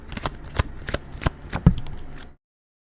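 Tarot cards shuffled by hand in a series of quick riffling bursts, about six short rustling slaps in two seconds, close and clear with no talking, then silence.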